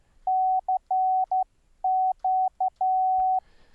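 Software-generated Morse code CW tones sound as a clean, steady pitched beep keyed into a series of short and long elements with brief gaps, loud and clear against near silence.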